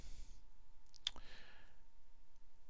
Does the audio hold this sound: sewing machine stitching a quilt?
no